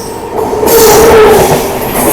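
The Sampoorna Kranti Express (12394) rushes past another Sampoorna Kranti Express in a loud, close roar, with a brief high wheel squeal and rattling carriages washing over the track.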